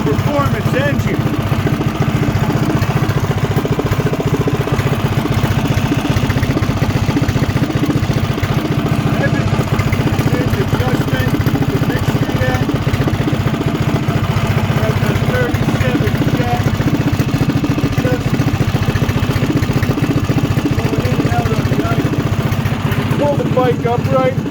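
A Coleman BT200X mini bike with a performance engine idles loudly and steadily close by, a continuous throbbing motor drone with people talking over it.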